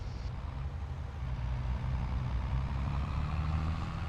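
Tractor hauling a trailer on a farm in Farming Simulator 23, a steady low engine drone that thickens after the first second and holds at a constant, close level with no talk.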